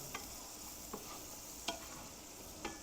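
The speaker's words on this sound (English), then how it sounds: "Now we'll just mix that around in there." Garlic sizzles in a frying pan while a utensil stirs it around, a steady soft frying hiss broken by four brief scraping clicks of the spoon against the pan, close and fairly quiet, with no talking.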